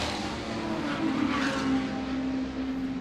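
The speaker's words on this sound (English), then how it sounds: "when he came past us now, it almost sounded like he missed the gear, but when he got the hammer down, you could see it was all hooked up and going" A Nissan race car on a circuit during a sports and GT race, its engine roaring steadily with a stumble as if a gear is missed before it pulls hard away, moderately loud with no talk.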